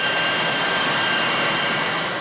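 Impala jet planes, Italian-designed and license-built, fitted with British Rolls-Royce engines, produce a loud, steady roar with a high whine, sustained and close, with no talking.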